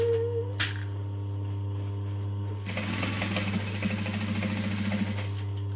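A sewing machine stitching a fabric lining slowly around a bend, starting with a brief whir and then a few seconds of steady rapid mechanical chatter over a constant low hum.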